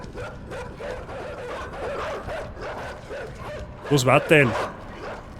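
Dogs in a video game bark and yip in a short loud burst near the end, following a stretch of talking.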